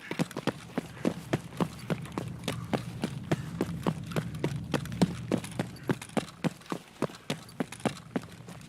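Rapid, evenly spaced footsteps in a tactical shooter game, about twenty crisp thuds in steady rhythm at moderate distance, running over a low ambient hum.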